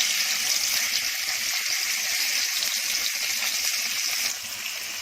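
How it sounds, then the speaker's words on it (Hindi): Pieces of fish dropped into hot oil in a small frying pan sizzle and crackle loudly and steadily, a dense bubbling hiss that eases slightly near the end, with no voices. "मच्छी तलने डाल रही हूँ"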